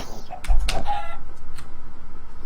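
Clucking from a chicken jockey in a Minecraft-style video game, a few short squawking bird calls in a brief burst over a low game rumble, no talking.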